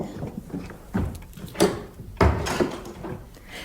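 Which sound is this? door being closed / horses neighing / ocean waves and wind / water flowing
door being closed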